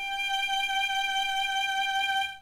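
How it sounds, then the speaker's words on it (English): A lone G note bowed on the E string of a violin in first position rings steadily for over two seconds, near and even, then cuts off; nobody speaks. "We leave a space in between and play the G."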